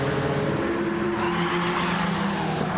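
Tires squealing on a racing game car, a Honda NSX or Hyundai Genesis in a GT4 Cup race, as a steady engine drone with a sustained tonal screech running throughout.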